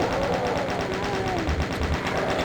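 Chaingunner enemies in Doom 2 firing a machine gun: dense, continuous rapid-fire rattle that stays loud and close throughout, over the game's other din, with no talking.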